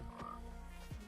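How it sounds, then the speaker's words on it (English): A frog in the Minecraft server game Hypixel Skyblock croaks twice, two short, faint calls spaced under a second apart over a low steady game background. "Frog."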